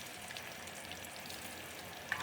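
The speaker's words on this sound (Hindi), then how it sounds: "अब प्याज़ को हमने ब्राउन करना है, तो अच्छा गोल्डन कलर आने तक हम प्याज़ को जो है ना वो फ्राई कर लेंगे।" Chopped onions sizzle in hot ghee inside a pressure cooker, a steady faint crackling fry with a small pop near the end, no voices.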